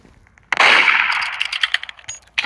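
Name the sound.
gunshot from the Roblox video game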